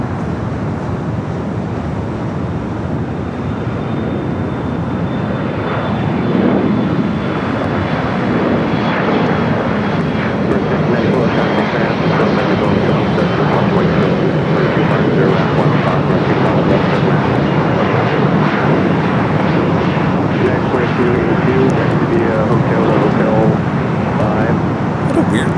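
A United Express SkyWest Embraer E-Jet takes off from runway 25 right at Los Angeles airport, a loud, steady broadband jet roar that swells and holds for the whole stretch.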